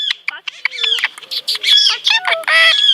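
A talking parrot chatters and squawks with rapid, varied whistles and mimicked speech-like phrases, loud and close, in a dense continuous burst.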